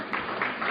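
Audience applause in a lecture room at a psychiatry-related talk, a steady wash of many hands clapping at moderate volume throughout, with no pauses.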